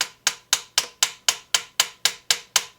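A hammer taps on the metal body of an old Selmer saxophone during repair, eleven light, evenly spaced metallic strikes in a steady rhythm, each a bright ringing tap, close and fairly quiet with no talking.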